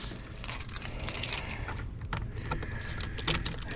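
Keys jangle and clink in a pocket in bursts of metallic rattling, near and moderately loud, beside a 1990 Ford van.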